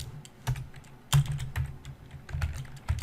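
Typing on a computer keyboard, close and clear, with bursts of quick key clicks and a few heavier strokes in uneven runs.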